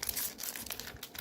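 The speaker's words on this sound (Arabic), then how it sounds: "نفتح الكيس ده" A plastic bag of biscuits is torn open, giving a close, brisk burst of crinkling and tearing rustle that lasts about a second, with no talking.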